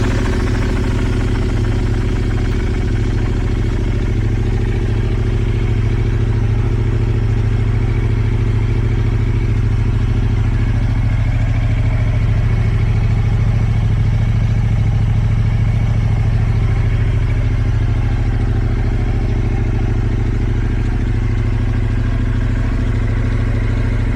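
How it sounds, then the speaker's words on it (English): A Yamaha R7 motorcycle engine with a new intake and ECU flash idles steadily nearby, giving a continuous, loud, low rumble with a fairly even tone throughout. "The bike is back and running"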